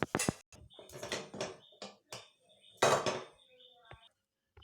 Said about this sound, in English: Now open the lid